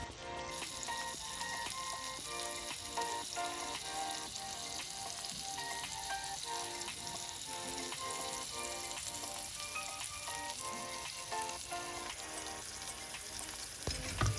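Garlic butter pork chop sizzles steadily in a hot cast iron pan over medium heat, a loud continuous frying hiss with crackles that holds for the whole stretch, no voices.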